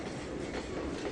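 A train in Trainz 2022 rolls along the track with a steady, rumbling wheel-on-rail drone and faint rhythmic clatter, close and continuous with no talk over it.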